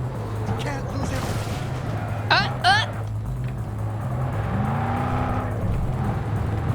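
A truck driven in Cyberpunk 2077 gives a steady, close engine drone throughout, with brief high chirps partway through and a swelling whoosh near the end.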